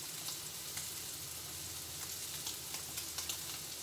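Codfish fries in a pan with a steady, crackling sizzle, close and moderately quiet, with scattered sharper pops over a continuous hiss and no voices.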